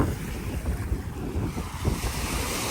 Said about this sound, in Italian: c'è una risacca abbastanza importante